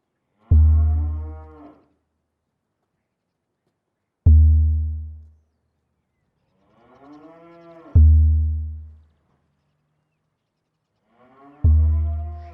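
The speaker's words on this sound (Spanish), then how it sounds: "Zechariah fue por allí a llevar un par de vacas de raza Alderney" Alderney cows moo as a radio drama sound effect: four long, loud, close bellows, evenly spaced with silence between them.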